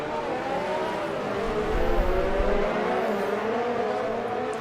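Engine noise from F1 race cars at the Monaco GP in a racing video game: a steady, dense whine of several cars running close together, swelling slightly in the middle, continuous and loud with no talk.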